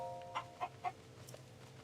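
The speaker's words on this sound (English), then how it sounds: "Yo, what's going on with this chicken?" A chicken clucks in the video game Zelda: Tears of the Kingdom, three short evenly spaced clucks over a steady low game background hum.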